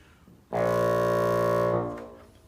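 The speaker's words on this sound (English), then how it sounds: "The lowest note on the bassoon is a low B flat." A single low B flat, the bassoon's lowest note, rich and reedy, held steadily for about a second and a half before fading out, played alone.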